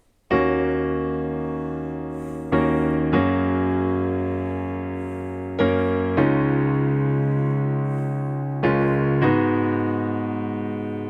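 Piano plays chord accompaniment with a top B flat added on the repeated chord, sustained chords struck every couple of seconds, rich and close, ringing and decaying between strikes with no talking.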